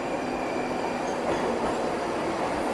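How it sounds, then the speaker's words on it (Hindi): A Tashkent metro train pulls into an underground station with a steady loud rumble and a rising roar of wheels on rails. No talk is heard over the noise. "तो अभी अपन हमारी ट्रेन जो है ऑलरेडी आने वाली है इस तरीके की साइड में"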